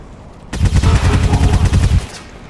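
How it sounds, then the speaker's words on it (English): Soldiers in XCOM 2 fire on an Elite Trooper: a loud, close burst of rapid automatic gunfire rattles for about one and a half seconds, then stops. "Maybe we just shoot the Elite Trooper a bunch?"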